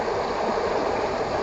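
Fast-flowing river rapids on Sungai Semenyih, a steady, dense rush of water close by with no break, heard alone.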